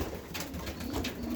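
Young pigeons coo softly at close range, low throaty murmurs overlapping in a short burst with some faint rustling.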